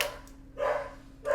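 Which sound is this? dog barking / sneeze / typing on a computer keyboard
dog barking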